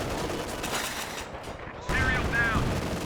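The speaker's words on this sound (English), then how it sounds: "Watch the machine gun." Machine gun fire in the strategy game Company of Heroes 2, a dense continuous rattle of bursts running steadily throughout, with a battlefield-like din and brief tonal calls over it near the end.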